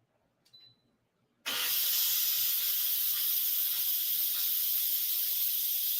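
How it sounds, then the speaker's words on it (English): Steam hisses loudly and steadily from a cooking pot as the lid comes off, a sudden broad rush that cuts in after a moment of near silence and then holds at a constant level. "Get that steam out."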